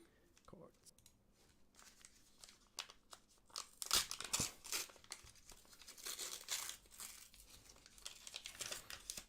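Trading card booster packs being torn open by hand, with crinkling foil wrappers and sharp ripping bursts coming in clusters, close and moderately loud.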